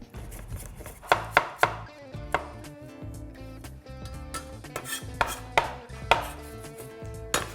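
A knife chops cucumber into slices on a cutting board for a glass noodle chicken salad, with a quick run of crisp cuts followed by more scattered chops over steady background music.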